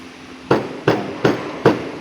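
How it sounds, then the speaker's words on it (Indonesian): A hard rubber mallet strikes four times at a steady, unhurried pace, each blow a close, dull thud with a short decay and no talking. "Ini palu karet, terbuat dari karet"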